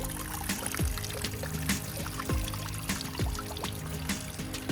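Water trickles and pours steadily into a garden fountain pond that holds fish and tadpoles, a continuous close splashing with a few louder drips and plops now and then, and no voices.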